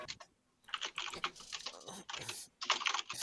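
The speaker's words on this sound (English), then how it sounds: "It's also gonna be really loud for you guys because of the clicky noises." Rapid clicky mechanical computer keyboard typing in bursts, loud and close, played as a quick spam of keystrokes during a VR game session with some faint talk mixed in.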